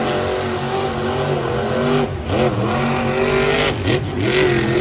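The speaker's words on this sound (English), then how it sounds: "He certainly seems to have the Gravedigger throttle rhythm, that's for sure. I mean, he is fluttering that thing a lot." Gravedigger monster truck engine at a Monster Jam World Finals, revving hard with a fluttering throttle, loud and close with pitch swooping up and down in repeated bursts.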